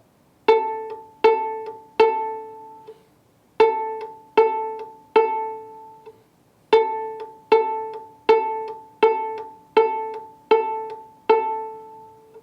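A viola sounds its open A string again and again in short even bowed strokes, played alone with brief pauses between groups.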